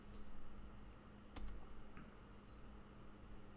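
A computer keyboard gives a few faint, scattered keystroke clicks over a quiet steady hum, with a brief cluster of taps in the middle.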